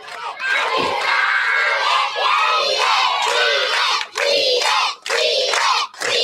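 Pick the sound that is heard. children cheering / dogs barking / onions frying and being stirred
children cheering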